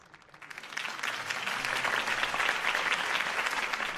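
Crowd applause in the Batman Telltale game after Harvey Dent's campaign speech: a dense, steady clapping from many hands that swells within the first second and holds at an even level.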